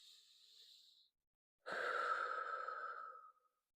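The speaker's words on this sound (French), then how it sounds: "Tu prends une bonne respiration." A single deep breath drawn in softly, a brief pause, then a longer, louder exhale like a sigh, close and clear with no talk around it.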